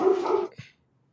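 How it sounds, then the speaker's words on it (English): A pet dog barks once indoors, a clear close bark, followed by a short silence and the start of another bark. "Sorry, my dog."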